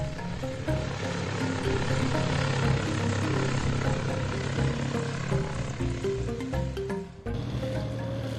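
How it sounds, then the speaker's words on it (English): Light aircraft flying over the Nazca lines in the Peruvian desert, with a steady, loud droning engine and propeller hum that continues throughout and shifts briefly near the end. "get into an airplane and fly above the many figures and mysterious lines that we can only see from the air"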